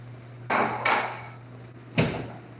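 A metal pot is handled in a home kitchen while stock is drained, giving three sharp metallic clanks spread over a couple of seconds, each ringing briefly over a low steady hum.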